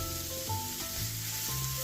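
Onion and small mushrooms cook in a dry pan before a little oil goes in, a soft steady sizzle with brief stirring scrapes, moderately quiet and close, no voices.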